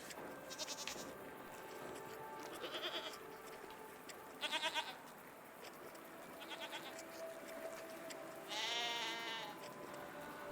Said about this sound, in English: What are these strange goat-like creatures? Are they simply goats?